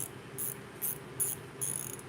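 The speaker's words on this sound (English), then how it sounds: "the Titan micro ratchet" Clicking from a Titan 1/4 inch drive micro ratchet: four short, bright bursts of clicks spaced roughly evenly, close and faint against a low background hum.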